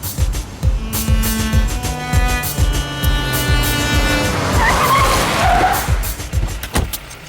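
A car brakes hard to a stop, tires skidding and squealing in a long, loud smear over the engine, with the squeal rising near the end before a brief thud.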